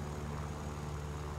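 Continuous engine roar from a Yakovlev 9P propeller plane in flight in War Thunder, a dense, even drone with a low throb that stays loud and unchanging from start to finish.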